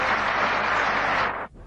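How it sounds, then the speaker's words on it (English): Cricket crowd at an England versus Australia Ashes Test applauding a batsman's innings, a dense, steady wash of clapping that carries on loudly, then drops away sharply near the end. "let the crowd tell you how much they've appreciated his cricket"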